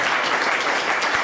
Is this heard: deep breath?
no